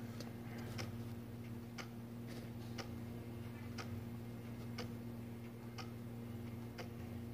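Steady, evenly spaced ticks from a couple of clocks sound close and clear over a continuous low electrical hum, with no voices.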